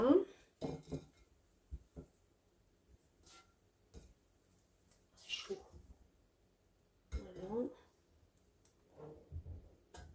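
Air-fried skewers are set onto a plate beside a Cosori Dual Blaze air fryer, giving a few sparse clinks and taps of metal on crockery, close and quiet, with pauses between them and a person speaking in between.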